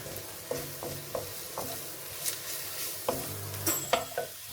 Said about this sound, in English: Just cook that off until you can start to smell the spices